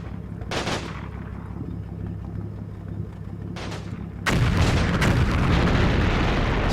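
Storm Tiger firing giant rocket shells in a video game, a heavy booming launch over a constant engine rumble, a second blast a few seconds later, then a louder sustained roaring rush that carries on to the end.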